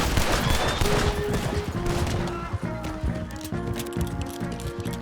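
Pistol gunfire in the video game Red Dead Redemption 2, a quick series of shots near the start fading under game music and effects.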